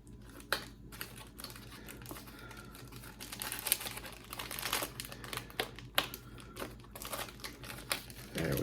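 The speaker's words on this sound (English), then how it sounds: "Let me see if I can get the staple out without tearing this up too bad." A staple being pulled from the paper and plastic packaging of a 1/2 ounce Brazzalo fishing lure, bone colored, gives faint crinkling and scratchy ticks, with small rustles and clicks spread across the clip.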